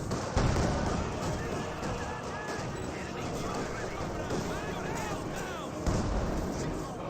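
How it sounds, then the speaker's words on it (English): An anti-tank gun fires amid a Company of Heroes 2 battle in the Spearhead mod, a dense roar of gunfire and explosions with two heavier blasts standing out near the start and near the end. "This gun is firing"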